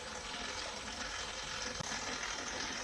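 Water runs steadily into a dough mixer bowl during kneading of biga-based pizza dough, a continuous close gushing and splashing with a faint mechanical hum underneath and a small knock near the end.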